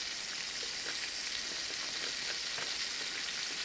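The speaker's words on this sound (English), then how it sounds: "We're just going to sear it, hopefully lock in some of that flavor" Meat sears in hot oil for a sauce piquant, a steady loud sizzle with dense crackling and scattered pops throughout, no voices.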